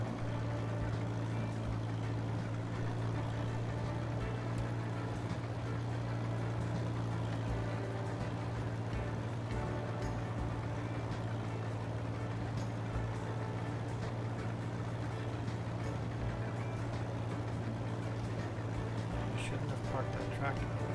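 A 1951 tractor engine runs at harvest time, a steady low drone heard throughout at moderate distance, with continuous rumbling and a little clatter, while a voice talks over it at times.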